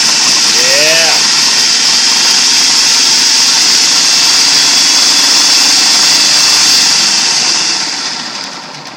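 A food processor whirring at high speed while chopping ingredients for hummus, loud and continuous, tapering off at the end; a brief voice comes through near the start.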